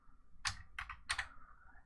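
Three short bursts of keystrokes on a computer keyboard, fairly quiet and close, with brief pauses between them and no talking.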